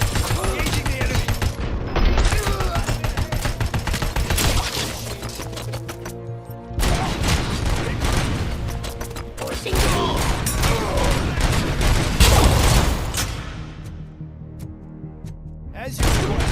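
Sustained gunfire in the Robocop: Rogue City video game, dense rapid bursts rolling almost continuously with brief gaps, loud and close, with a mechanical rattle and in-game voice lines over it.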